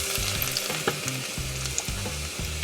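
Garlic frying in about 1.5 tablespoons of hot oil in a small ladle (dabu) for Guyanese dhal, a steady close crackling sizzle with soft stirring clicks and low hum, no talking.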